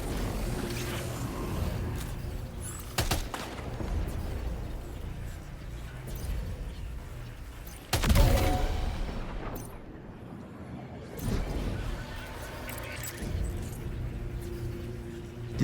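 Weapon fire in Death Stranding 2: On The Beach, with scattered heavy shots and booms over a rumbling game background and one loud near blast standing out partway through.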